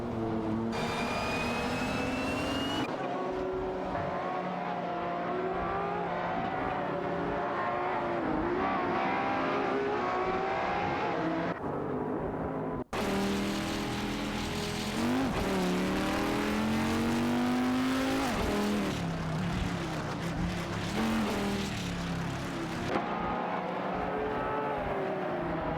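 Race cars in an AI-driven racing video game roar continuously and loudly, engine notes climbing and falling through gear changes as several cars run close together in a tight pack battle.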